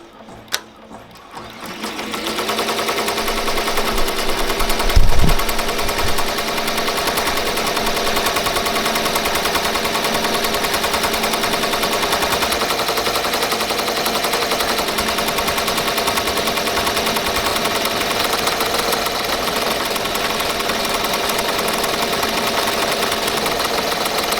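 Ricoma MT-1501 embroidery machine starting up and stitching, a rapid, steady mechanical chatter that builds quickly and then runs loud and continuous for over twenty seconds with no one speaking.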